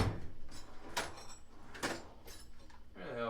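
Drawers of an SK toolbox slide open and shut during a search for screwdrivers, with three sharp rattling metal bangs spaced about a second apart over a low room rumble.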